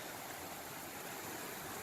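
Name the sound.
small creek stream flowing in Angeles National Forest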